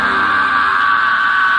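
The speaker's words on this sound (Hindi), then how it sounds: "तभी उन्हें राकेश के चिल्लाने की आवाज आई" A sustained loud cry from Rakesh, a character in a Hindi animated horror story set in a haunted boys' hostel, one continuous strained yell holding steady for the whole moment.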